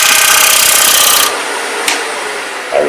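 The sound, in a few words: lathe tool taking a fine cut in wood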